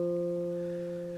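A single guitar note F, played at the third fret of the fourth string, rings out clearly and sustains evenly for just over a second, alone and close.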